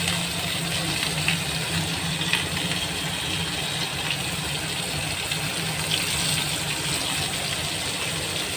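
Kebabs sizzle on a hot tawa griddle over medium heat, a steady, dense frying hiss that holds loud and even for the whole stretch with no talking.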